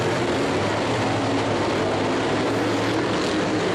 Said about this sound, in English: The modifieds, they're loud